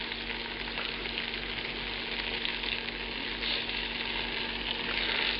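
Banana fritters fry slowly in a pan, a steady, close sizzle that holds without a break throughout, with no voices over it.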